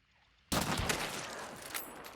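Sudden burst of video game gunfire in an online duos match, a dense loud volley of overlapping shots that keeps rattling steadily without a break.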